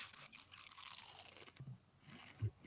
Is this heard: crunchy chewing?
yes